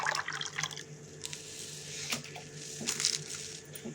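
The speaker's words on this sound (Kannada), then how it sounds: "ಸಬ್ಜಾ ಬೀಜದ್ದು ಜ್ಯೂಸನ್ನ ಹಾಕ್ತಾಯಿದ್ದೀನಿ." Soaked sabja seeds in liquid are poured into apple, beetroot and carrot juice, giving soft wet splashes and drips with a few small clinks, close and moderately loud, with no talking.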